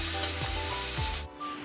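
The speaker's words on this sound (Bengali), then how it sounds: "ডালটা সাতলাবো।" Dal sautés in hot oil with a loud, bright sizzle near at hand that cuts off abruptly just over a second in, leaving a quieter background.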